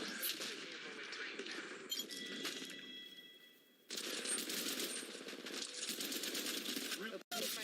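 Rapid automatic gunfire in the video game Apex Legends Mobile, loud and dense in two long bursts separated by a brief lull with a ringing metallic tone, ending in a sharp cutoff; no talking heard.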